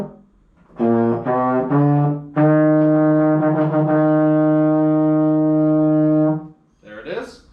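A baritone horn plays E flat with the first valve: a few short tongued attacks, then one long sustained note of about four seconds, close and loud, ending before a voice briefly speaks.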